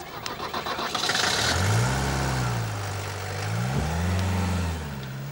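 A car engine cranks and catches after some opening rattling, then revs up and settles into a rising and falling drone as the vehicle pulls away, loud and close with no talk.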